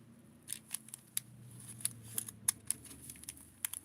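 Scissors snipping fabric while sewing doll clothes, a series of crisp, irregular close cuts, quiet and isolated with no talking.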